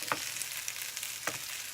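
Cauliflower patties frying in a Pampered Chef skillet, a continuous bright hiss of hot oil with two short scraping clicks of a turner flipping them, fairly close and moderately loud, no voices.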